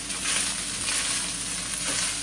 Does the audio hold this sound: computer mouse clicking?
no